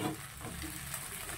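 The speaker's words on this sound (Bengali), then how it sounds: "এই যে চাউমিনটাকে সবটা দিয়ে দিলাম, আর ভালো করে এবার এটাকে মিশিয়ে নেব" Chowmein frying in a pan with potato, ginger and chilli as it is stirred, a low steady sizzle with soft scraping, quiet and close.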